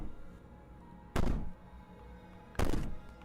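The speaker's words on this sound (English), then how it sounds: "Bang on the door." Two loud, heavy bangs on a door in the video game Slay the Princess, each a booming thud with a short rumbling tail, spaced over a second apart against a quiet, low background.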